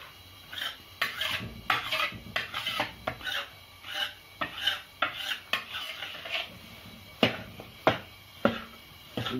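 Wheat flour roasting in desi ghee in a large pot for Rajasthani gund laddu, stirred steadily with repeated scraping strokes and occasional sharper knocks against the metal, moderately close with no talk.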